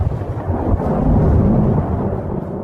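A strong thunderstorm, with deep, loud rolling thunder rumbling continuously and swelling, then easing off, with no voices.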